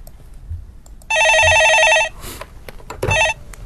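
An incoming call rings on a telephone during a stock-market call-in broadcast: one loud electronic warbling burst lasting about a second, then a brief second ring after a pause, with faint background noise between.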